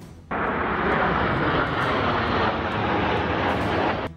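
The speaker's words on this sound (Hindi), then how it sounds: "वायुसेना के विमानों ने आसमान में कई करतब दिखाए" Italian air force planes flying in formation overhead during an aerial display, a loud broadband jet roar that starts abruptly and holds steady and close throughout.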